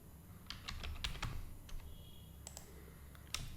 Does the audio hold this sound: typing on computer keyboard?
yes